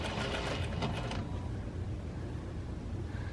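A sewing machine stitches fabric in a steady, continuous mechanical whir that stays close and even throughout, with a slightly busier rattle in the first second.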